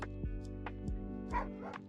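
Golden doodles bark in a short run of sharp, close yips and woofs, roughly five quick barks over a steady low background hum.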